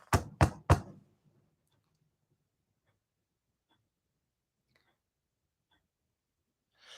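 Three sharp knocks on a priest's house door in quick succession, loud and close, followed by near silence.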